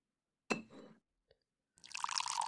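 Wine poured into a glass in The Great Ace Attorney Chronicles: a short clink and pour, a brief tick, then a louder bright splashing stream filling the glass, close and clear with no talk.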